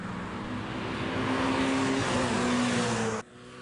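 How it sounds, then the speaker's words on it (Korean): Race cars practicing on the track at a motorsport festival, a dense, loud engine roar holding steady for about three seconds before cutting off abruptly. "모터스포츠 페스티벌에 참가한 선수들이 예선을 앞두고 연습 경기를 하면서 실전 감각을 끌어올립니다."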